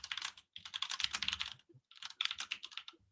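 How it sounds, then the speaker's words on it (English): Rapid typing on a computer keyboard, a dense flurry of quick clicks in three bursts with brief pauses between, close and fairly quiet, with no voices. "Robert's typing real fucking quick."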